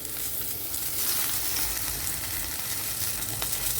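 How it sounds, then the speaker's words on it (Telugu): Red-stemmed gongura leaves fry with green chillies in a pan, giving a steady, dense sizzle throughout with faint stirring and no talking. "మనం పచ్చిమిర్చిని పక్కా తీసుకొని గోంగూరను వేయించుకున్నాము"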